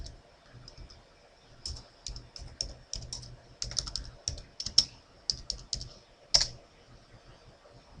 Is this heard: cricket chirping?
no